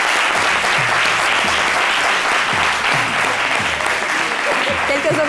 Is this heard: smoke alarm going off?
no